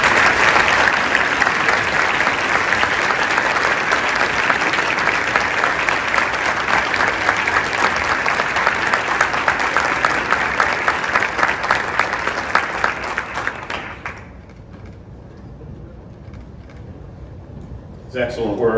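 A large audience at an awards ceremony for Presidential Rank Award winners claps steadily and loudly for about fourteen seconds before the applause fades to a quiet room.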